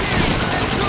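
Video game gunfire on Xbox 360, a dense, loud barrage of shots with a battlefield roar running straight through the brief moment, with speech mixed in.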